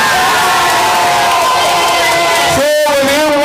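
A dense, loud crowd cheers and shouts continuously at a broadcast event, with a raised voice ringing out above the din.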